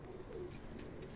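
German rooftop pigeons give a low, soft coo that stays faint and somewhat distant against a steady background hum, with no talking.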